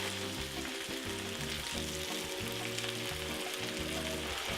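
Kale, onions, peppers and sausage frying in a pan over medium-low heat, a steady close sizzle with rhythmic bursts of stirring and scraping, no voices.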